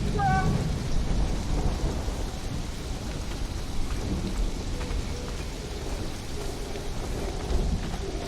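In the game Conan Exiles, a nighttime thunderstorm brings heavy, steady rain and deep rumbling thunder that rolls on throughout, loud and enveloping, with no voices.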